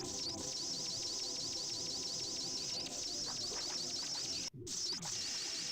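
Bird-like cooing and chirping from the surreal PlayStation game LSD Dream Emulator, a steady looping game-audio bed with repeated calls, cut by a brief dropout near the end.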